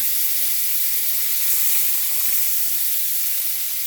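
Shrimp sizzle and fry steadily in a hot pan for a stir-fry, a dense, even crackling hiss that holds at a constant close level throughout, with no voices over it.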